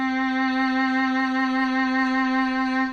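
A violin sustains a single bowed C note, played with the first finger in third position, holding steady and clear with rich overtones for about three seconds.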